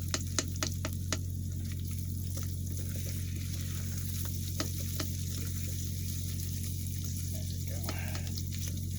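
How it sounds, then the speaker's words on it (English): Cooking kielbasa, beans and rice in an Instant Pot, with a utensil scraping and stirring along the bottom of the pot over a steady sizzling hum and a few sharp clicks. "Constantly scraping the bottom of this thing."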